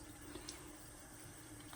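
Running tap water splashing steadily while a face is washed with a foaming cleanser, a continuous close, moderate hiss and trickle with no talk.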